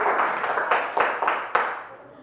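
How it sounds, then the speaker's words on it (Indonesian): A classroom of students gives a brief round of applause for a fellow student, scattered claps building then tapering off over about two seconds, fairly close. "Beri aplaus dulu untuk Aji"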